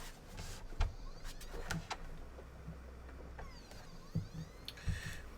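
A PS4 disc drive grips an inserted disc and spins it up, producing faint whirring motor sweeps and small mechanical clicks and thuds, quiet and close.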